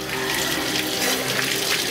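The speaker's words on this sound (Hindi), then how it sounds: "हमने दाएं हाथ में पानी लेना है, लीजिए, फिर नाक में चढ़ाना है नरम गोश्त तक।" Water runs steadily from a tap while someone performs wudu ablution, cupping it in the right hand to draw into the nose. It is a loud, close, continuous gush with no talking.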